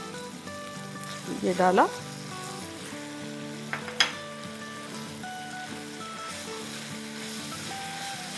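Ginger and garlic sizzle in hot oil for a guar and potato curry, a steady frying hiss with a few clinks of a utensil against the pan, while someone speaks briefly.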